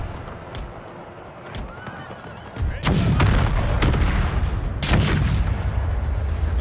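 Cannons loaded with canister shot fire during a war video game battle set in the 1864 Prussian war, as sharp booming blasts punctuate a dense battlefield roar, with horses whinnying and hooves clattering among several close, loud reports.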